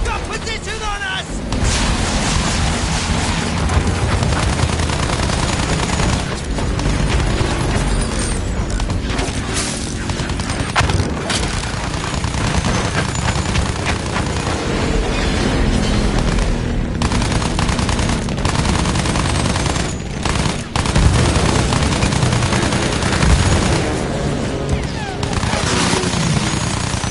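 Battlefield 1 combat with sustained rapid gunfire, machine-gun bursts and booming blasts, loud and dense throughout, with shouted voices mixed into the chaos.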